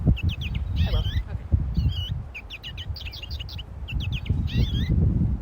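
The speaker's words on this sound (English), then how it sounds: "And here's a goldfinch." Goldfinch song played back during a virtual field trip on birds, a string of bright twittering chirps and warbled phrases in bursts, with people talking and murmuring underneath in a room.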